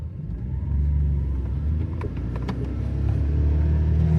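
A 1999 Honda Vamos kei van with a non-turbo engine pulls away, a steady low engine rumble building slightly as it gets moving, with faint clicks and knocks from the cabin over the drone.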